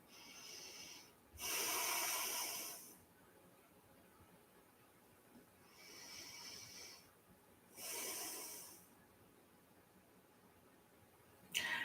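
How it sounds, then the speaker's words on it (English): Deep breathing through the nose, several slow, close exhalations in separate bursts with quiet pauses between them and no talking. "Deep breaths."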